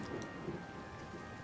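Sleet and rain falling outside in a steady, faint, continuous hiss, with no voices.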